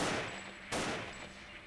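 Gunfire from a firefight in the game S.T.A.L.K.E.R. Fate of the Zone, a steady dense crackle of shots with a sharper, louder burst partway through, no voices.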